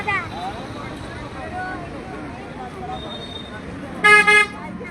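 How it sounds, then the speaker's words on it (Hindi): Street traffic on the Pune bypass road, a steady low rumble of passing vehicles with a short double car-horn toot near the end, under continuous talk. "ये ट्रैफिक है बस उतनी नहीं है पुणे में जितनी होनी चाहिए"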